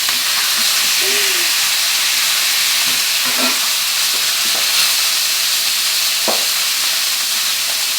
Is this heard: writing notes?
no